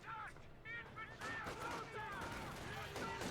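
Rapid small-arms gunfire crackles through a Company of Heroes 2 battle as Volksgrenadiers engage combat engineers, with bursts of shots over a busy background and chirpy unit sounds layered in.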